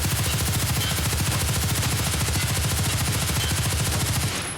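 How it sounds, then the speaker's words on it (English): Sustained full-auto fire from an HK rifle in Escape from Tarkov, a rapid, unbroken stream of loud, close gunshots that continues without pause for several seconds before cutting off. "We're going to stick it on full auto."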